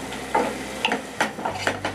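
Grated onion sautéed in a pan for Moghlai chicken handi, sizzling steadily while a utensil stirs it in about five regular scraping strokes, close and loud, no talking.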